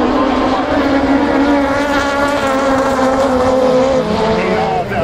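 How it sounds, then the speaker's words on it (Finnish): Supersalo ice-racing cars on long-studded tyres launch from the start of an A-final at Akaa, a loud massed engine roar rising steadily in pitch and blending together throughout. "Ja pitkäpiikkiset Supersalon autot ovat liikkeellä."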